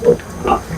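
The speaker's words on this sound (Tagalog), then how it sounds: "So mayroon akong 11 biik mga idol." Piglets on a rural Philippine farm give a few short, close grunting oinks in quick succession, with no talking over them.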